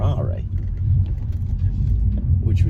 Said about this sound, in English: I'm going to have to drive to the other car wash